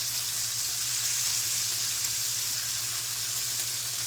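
Pork pepper steak sizzles steadily in a frying pan after being flipped, a loud, even hiss with a low background hum and no speech.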